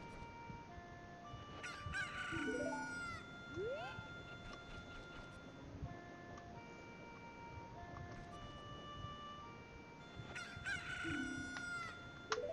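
Video game chicken sounds: a rooster crows twice in bright, synthetic-sounding calls with clucks and chirps in between, all over a steady game soundtrack.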